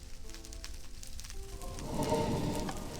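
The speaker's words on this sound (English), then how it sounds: "Why does it sound like everything's on fire?" Fire crackling in the Minecraft modpack All the Mods 3, a soft hissing crackle that swells louder over a few seconds, with faint tonal game sounds fading underneath.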